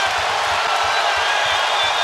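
Crowd in Charlotte roaring and cheering at a college basketball game between Florida and North Carolina, a broad loud wash of noise with faint rhythmic thumps beneath, a commentator talking over it.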